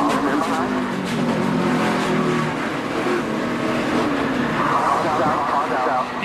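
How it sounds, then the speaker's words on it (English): A NASCAR Xfinity stock car engine roars steadily and loudly as the driver lifts off the throttle during a 2015 race, with the race-car drone running continuously throughout. "You could hear Chase even getting out of the throttle too."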